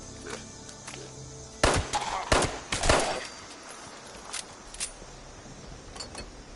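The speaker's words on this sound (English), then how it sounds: "I want to say this gun's got a different sound effect to Fallout 4." A 10mm pistol fires in Fallout 76: a few sharp, separate shots in quick succession, then scattered fainter pops, with quiet stretches between them.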